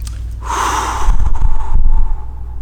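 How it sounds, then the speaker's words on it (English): Box breathing through the nose: a long, steady, close nasal inhale flows into a softer exhale, loud and breathy with no talking. "You inhale through the nose for 4 seconds, then you hold your breath for 4 seconds, then you exhale for 4 seconds"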